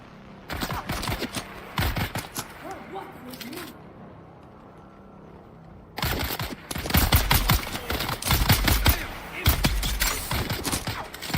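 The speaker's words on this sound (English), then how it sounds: "Using these things like pulse rifles is definitely the way to go" Pulse rifle fire from the Dune: Awakening video game comes in dense, rapid bursts of sharp cracks, close and loud, with a quiet gap of a few seconds between two long volleys.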